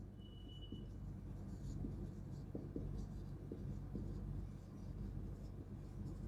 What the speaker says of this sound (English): Now we will write that.